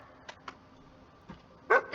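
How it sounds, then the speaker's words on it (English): A dog in The First Descendant gives a few short, faint yips and a closer, louder bark near the end, separated by quiet gaps. "It's just an ordinary dog."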